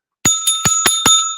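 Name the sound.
bell rung as a panic bell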